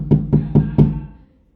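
Police pound on an apartment door with four heavy, evenly spaced knocks, loud and close, and a short ring fades out after the last blow.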